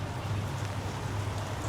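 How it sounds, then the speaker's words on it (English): Steady rain falls on a New York street along the Bowery, a continuous dense hiss with a low rumble beneath, close and fairly loud with no voices. "I told you it was going to rain."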